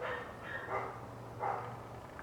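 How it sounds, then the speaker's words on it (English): Several dogs bark nearby in short, intermittent woofs and yips, four or five distinct barks spread over a couple of seconds, moderately loud against a low steady hum. "I don't mind dogs barking, but not for 24 hours at a damn time"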